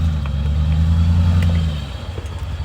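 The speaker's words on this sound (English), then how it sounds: "You're gonna go over a rock with your wheel" Lifted Dodge Ram on 37-inch tires crawls over a rock bed, its engine a steady low rumble that eases and lightens partway through, close and loud with no talk.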